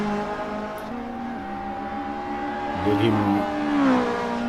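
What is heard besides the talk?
GTi Challenge race cars passing on track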